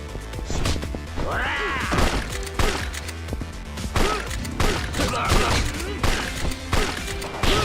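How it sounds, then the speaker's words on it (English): Pistol shots ring out in the video game Yakuza 5 as rapid, repeated cracks among thuds and crashes, a dense, loud stretch of combat noise running throughout. "I'm just gonna unload as many pistol shots as I need to"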